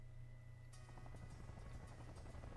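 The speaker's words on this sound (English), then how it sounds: "Oh no, my chopper's going down!" A helicopter in the snowboarding game SSX gives off a continuous low droning rumble, and a rapid rotor chop breaks in partway through and continues steadily with no talking.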